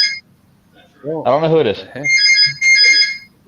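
A phone rings with a repeating electronic tone pattern, loud and close, sounding alongside someone talking.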